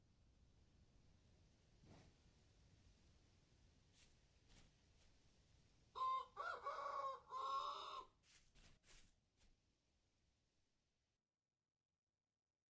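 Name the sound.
chicken clucking in a video game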